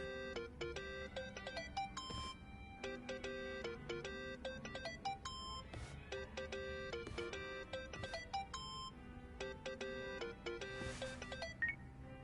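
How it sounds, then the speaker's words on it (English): A mobile phone rings in the video game Yakuza: Like a Dragon, a repeating electronic ringtone melody that plays continuously and loudly with no talk over it. "Think that's your phone, man."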